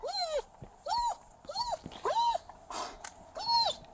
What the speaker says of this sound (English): maybe he didn't even hear what he's saying because the dog's barking